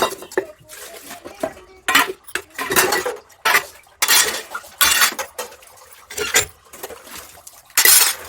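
Dishes and pots being washed with water at home, with repeated clinks and clatters of metal utensils and splashing water in irregular bursts, close and fairly loud, with no talking.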